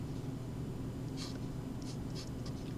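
Pen strokes scratch out an equation by hand in short, light bursts over a steady low hum, close and fairly quiet, with no one speaking.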